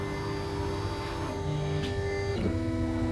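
An Ortur Laser Master V2 laser engraver moves with a soft, steady motor whine and faint shifting tones, quiet and continuous over a constant low hum.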